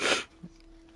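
A single sharp sneeze bursts out up close, followed by a faint short breath.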